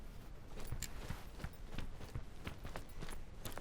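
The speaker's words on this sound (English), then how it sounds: "But I do hear footsteps from his buddy coming around the corner." An enemy player's footsteps in the video game Deadside, a steady run of soft thudding steps at a quick walking pace, fairly quiet and at a moderate distance, with no talking.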